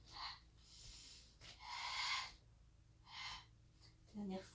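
Forceful breathy exhales during an ab and waist stretching exercise, several short close-up bursts of air in an uneven rhythm, with a quiet voice at the very end.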